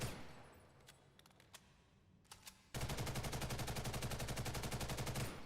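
Gunfire in the game Ghost in the Shell: First Assault: a few scattered single shots, then a sustained rapid automatic burst of evenly spaced, loud, close shots with no voices.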